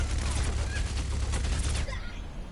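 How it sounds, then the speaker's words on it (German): Rapid bursts of weapon fire from an Overwatch match, including a grenade launcher, crackle loudly and continuously for about two seconds before cutting off into quieter game ambience. "Ja, du hast ja so mit dem Granatenwerfer geschossen."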